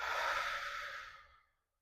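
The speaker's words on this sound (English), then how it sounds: "I'm breathing in through my nose and then out through my mouth" A slow, relaxed breath, drawn in through the nose and let out through the mouth in one long airy exhale that fades to silence, close and soft.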